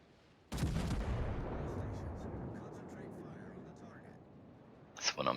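A heavy naval gun blast in a warship battle game, one sudden loud boom followed by a long rumbling decay, then sharper crackling hits near the end, with a voice speaking over it.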